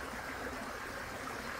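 A soft, constant rush of cascading water comes from waterfall footage played on one Bluetooth speaker, faint and even throughout, with no one speaking.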